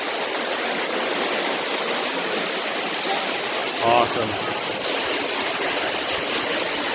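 Water pours from a cave ceiling into a five-foot-deep pool it carved out, a loud, close, steady rushing roar, with a short spoken exclamation partway through.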